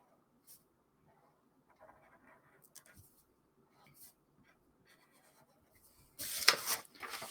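A marker draws a smiling mouth on a handmade paper superhero puppet. There are faint, scattered scratchy strokes on paper, then a louder rubbing stroke near the end.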